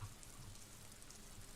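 Steady rain falling in the game Disco Elysium, a faint even patter and hiss with no other sounds.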